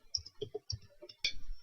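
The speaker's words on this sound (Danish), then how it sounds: "Nu taster vi lige vores værdier ind" Values are typed on a computer keyboard as a quick run of sharp, close key clicks in uneven rhythm, ending with a louder final press.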